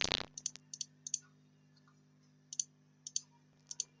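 Mouse clicks on a computer while working with the lasso selection tool in Photoshop, a quick burst of sharp clicks followed by more spaced single and double clicks, close and crisp against a faint steady hum.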